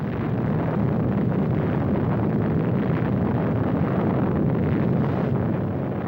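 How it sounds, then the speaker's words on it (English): Atom bomb blast heard as a loud, sustained, dense roaring rumble that stays steady and overwhelming throughout, with no voices. "The blast of an atom bomb is its most important destructive agent."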